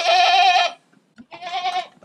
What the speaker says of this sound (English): That bleating's going right through me